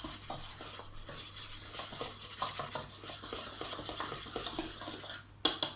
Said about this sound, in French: ici je mélange la farine donc et la levure chimique rapidement